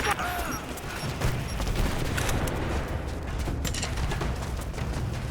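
Gunfire in Rise of the Tomb Raider, a rapid crackling fusillade of shots layered with impacts and rumble, continuous and fairly loud throughout, with voices calling out amid the shooting.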